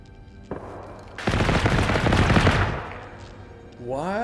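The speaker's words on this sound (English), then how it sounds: "Something has decided to shoot at me outside, and I don't know what it is." Gunfire in the video game Generation Zero: a single sharp shot, then a dense burst of rapid automatic fire lasting a couple of seconds before fading, followed by a rising engine-like whine at the end.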